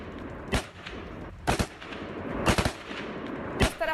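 Gunfire in Panjshir, Afghanistan: four sharp, loud shots ring out about a second apart over a rough, noisy outdoor background, each crack trailing a brief echo.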